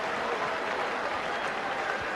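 Cricket crowd at a 1989 match applauding a big hit for six, a steady, dense wash of clapping from a large stand, continuous and fairly distant, with no distinct voices.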